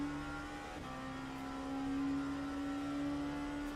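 A BMW race car engine in a racing game at Spa, 4 Hours of Spa event, a steady high-revving tonal drone with a slight rise in pitch partway through, loud and continuous with no talking.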